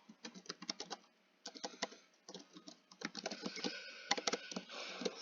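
Close, brisk typing on a computer keyboard in uneven bursts of rapid key clicks with brief pauses, growing denser toward the end, with no talking.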